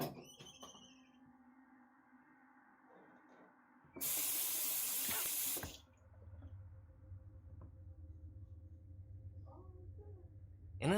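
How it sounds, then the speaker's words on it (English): A bathroom sink faucet suddenly bursts on at full blast, a loud steady rush of water lasting under two seconds before cutting off. A quieter room hum and some talking can be heard around it. "the bathroom sink turns on full blast all by itself"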